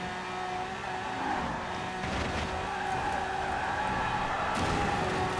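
A Lamborghini drift build tuned to 1800 horsepower in the racing game Forza Horizon 4 holds a loud, sustained engine roar with shifting tones and a tire skid running beneath it, with no one speaking.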